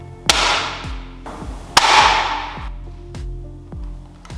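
A Bug-A-Salt 3.0 salt gun fires two loud, sharp snaps, each trailing off in a brief hiss, with lighter clicks of handling between and after them. No one speaks.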